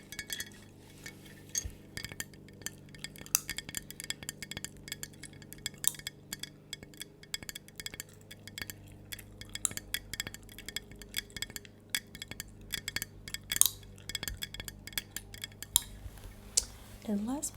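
Glass jar being handled in a quiet ASMR self-care setting, giving soft, scattered clinks and taps of glass throughout, close and fairly faint, with a low steady hum beneath.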